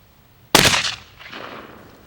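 A single loud, close blast from a .410 shotgun fired at a pumpkin outdoors, sharp onset with a short ringing tail and faint echo trailing off.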